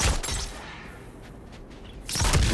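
A fire pot bursting when struck in God of War Ragnarok, a loud, crackling blast with scattering debris, followed by a short quieter stretch and then another heavy rumbling burst.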